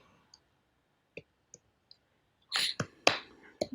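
PHP code is typed on a computer keyboard: a few sparse, light keystrokes, then a quicker cluster of louder clacks close to the microphone.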